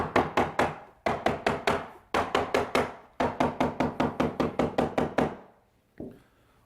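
Rapid hammer taps driving a feather strip in to hold the cloth on a Legacy pool table rail, arriving in quick bursts of five to eight sharp knocks separated by brief pauses, close and alone.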